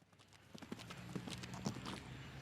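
Hooves of a show jumping horse at a grand prix competition clip-clop in a quick, steady cadence on the arena footing, moderately close, with faint background noise and no talk.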